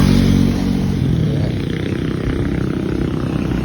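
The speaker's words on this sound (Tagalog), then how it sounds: "Ayan yung mga sakyan ng mga papasok na hanap buhay." Motorcycles and other vehicles of morning commuters pass on a road, with a loud, close engine roar and rumble at first that eases into a continuous droning traffic noise.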